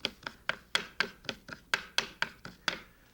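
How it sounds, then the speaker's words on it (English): Knife finely chopping chives on a cutting board, about a dozen crisp, evenly spaced thuds close up, with no talking. "If you don't have chives, you could use shallot or scallions. And I'll chop that up fairly fine."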